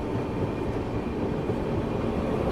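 A train rolling in on the Moradabad line at a station, a steady, loud, continuous rumble of wheels and carriages with no talking.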